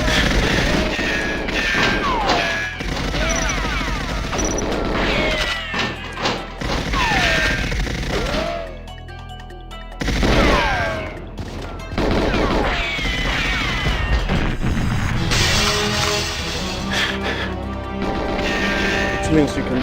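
Gunfire in the Nintendo 64 game GoldenEye 007, bursts of game shots and crashes mixed with music and effects, with a person talking over much of it.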